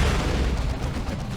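A lascannon fires in Dawn of War 2 Retribution (Warhammer 40k), a heavy booming burst at the start that rumbles and decays across the battle, with no talking.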